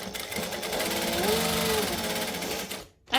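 A sewing machine stitches straight down the side of a fabric pocket in one steady, continuous whir, then stops abruptly.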